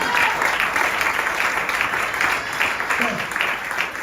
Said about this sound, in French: Alors, est-ce que tu peux acclamer le Seigneur?